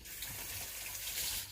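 Tap water runs steadily onto a kitchen knife blade while an onion is being prepared, a continuous close splashing hiss with no talking.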